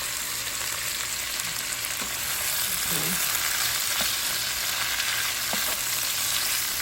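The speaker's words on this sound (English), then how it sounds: "And now we're going to go ahead and add our sausages back in." Sausages fry in oil in a pan, a constant close, loud sizzle and crackle with occasional stirring clicks; a voice speaks one brief word over it.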